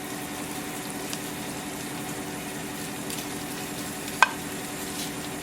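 Butter and light brown sugar melt in a pan while being stirred, giving a soft, steady sizzle and faint scraping with one brief sharp clink, and no talking.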